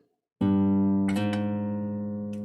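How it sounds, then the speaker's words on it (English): Guitar note played at the third fret and slid under steady finger pressure, one plucked attack ringing out with a brief shift in pitch and a light second pluck, sustaining and slowly decaying alone. "if you're not too sure about how to slide, I played my 3rd fret note"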